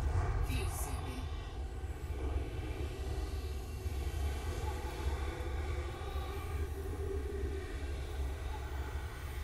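A starship in Elite Dangerous scooping fuel from a star gives a constant loud low roar with a steady engine drone, continuous and unbroken, with no speech over it.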